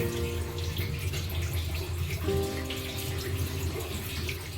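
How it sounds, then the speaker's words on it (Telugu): Grapes are washed in a bowl of water for homemade grape wine and the water is poured away, giving a steady, continuous splash and pour throughout. "ఇప్పుడు ఒక్కసారి కడిగి ఈ నీళ్ళన్నీ మనం పడేయాలి"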